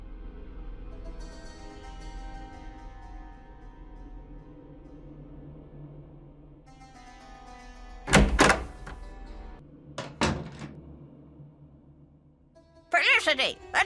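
In the Nancy Drew game Curse of Blackmoor Manor, a door bangs shut with a few loud thuds amid talk and a musical score.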